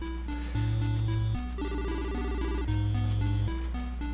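A telephone rings in a Famicom video game, TM Network, as a chiptune ringtone of repeated synthetic beeping tones layered over bass notes, steady and alone.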